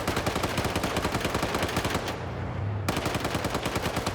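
Rapid machine-gun fire rattles continuously in a Vietnam-era military video game match, with one short pause before the sustained bursts resume.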